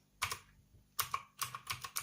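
Keys clack on a Skyloong SK03 mechanical keyboard, with a quick cluster of presses followed by several more in an uneven rhythm, close and fairly quiet with no speech.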